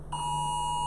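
A US emergency alert test tone sounds from a phone, a steady, loud electronic beep that holds for nearly a second after a brief quiet lead-in.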